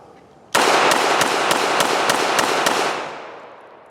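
About eight shots fired from a Standard Manufacturing HPX 1911 pistol at a steady, quick pace. Each crack is sharp and loud, and the reverberation lingers and fades after the last round.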